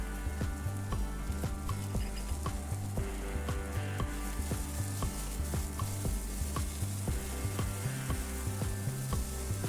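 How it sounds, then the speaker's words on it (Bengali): Capsicum sautéing with salt and pepper in a kadhai while cooking kadhai chicken, giving a steady loud sizzle with rhythmic scraping and stirring strokes of a utensil throughout, close up and with no talking. "ক্যাপসিকামগুলোকে নুন ও গোলমরিচ দিয়ে হালকা সটে করে নিতে হবে।"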